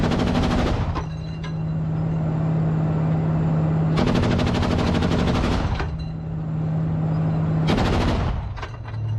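A tank's turret gun firing in the Ukraine war, in three long bursts of rapid automatic fire over a steady engine hum, loud and close, with brief gaps between bursts.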